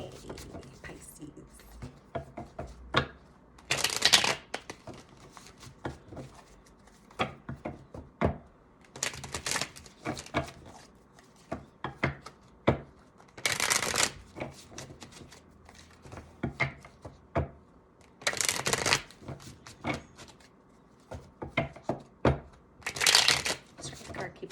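Rider-Waite tarot deck being shuffled in repeated bursts of riffling card flutter, with softer handling taps and card slaps in between, recorded close with a voice talking quietly in the background.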